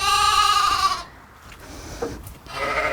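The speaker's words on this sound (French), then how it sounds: "Ça c'est une brebis que je vais rentrer aujourd'hui, qui doit mettre bas demain." A ewe bleats in a sheepfold, a pregnant sheep due to lamb the next day: a loud, close, wavering cry for about a second, a pause, then a second bleat starting at the end.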